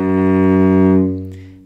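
A single sustained cello note, F sharp played on the C string with the hand in forward extension, rings steady and bright with strong harmonics and fades toward the end, heard alone.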